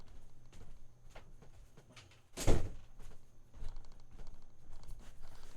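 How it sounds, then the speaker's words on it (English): A bedroom door swings shut with a single sharp thud midway, surrounded by quieter shuffling, rattling handling noises before and after. "I need to shut my bedroom door"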